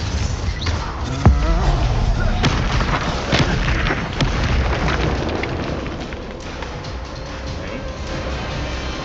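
Bombarda spell blasting in Hogwarts Legacy, a loud broadband explosive burst followed by rumbling battle effects and scattered impacts that gradually taper off under a continuous game soundscape.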